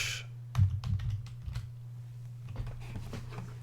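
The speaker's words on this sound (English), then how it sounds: "I'll just type and let them know" Computer keyboard being typed on in short irregular bursts of clicks, close by and moderately loud over a steady low hum, no talking.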